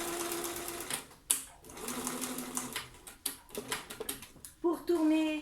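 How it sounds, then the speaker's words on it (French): A sewing machine stitches fabric a millimetre from the centre line in quick bursts of rapid mechanical ticking, stopping and starting, while someone talks over it at moderate level. "Donc je couds à 1 mm de mon milieu."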